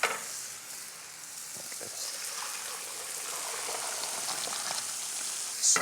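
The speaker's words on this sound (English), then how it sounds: "I'm going to strain off our pasta." Cooked linguine being strained, with a steady, close rush of draining water that hisses and splashes for several seconds without a break.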